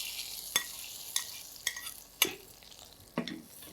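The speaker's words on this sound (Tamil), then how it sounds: "இப்போ வறுத்த முந்திரி பாதாம் திராட்சையை சேர்த்துருவோம்" Roasted cashews, almonds and raisins are stirred into sweet date sugar pongal, heard as a gentle sizzle under a series of sharp spoon scrapes and taps against the pot, about one every half second.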